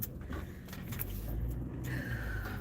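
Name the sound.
car reversing into a garage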